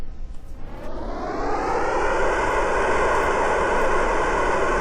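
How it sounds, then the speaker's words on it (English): Rocket engines fire in Kerbal Space Program on a lander taking off from the Mun, a loud, steady roar that swells over the first couple of seconds and then holds constant, with no voices. "So we have all the engines on."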